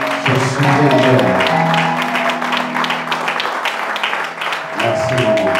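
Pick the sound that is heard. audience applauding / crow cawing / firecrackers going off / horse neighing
audience applauding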